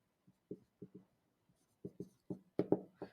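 Marker or chalk strokes on a lecture-room board, a sparse run of short taps and squeaks with pauses, growing denser near the end, close and clear without talk.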